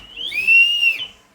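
A pressure cooker cooking sambar lets out one shrill, steady whistle that swells, holds for about a second, then cuts off. It is loud and close, with no voices over it.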